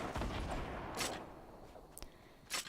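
Gunfire in the Fortnite video game as shots hit the player, a few sharp bursts spread over a couple of seconds against steady game background noise.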